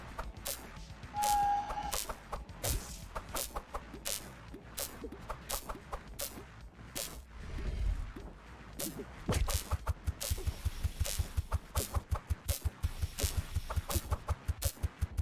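Birds squawking in the PC video game Her Name Was Fire, repeated clucking calls among rapid clicking game effects, ending in a fast, steady rattling run of hits.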